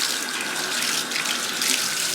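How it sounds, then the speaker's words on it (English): Hot water running steadily from a bathroom tap in a freshwater aquarium fish room, a close, continuous hiss of flowing water with no talking. "This water gets super hot."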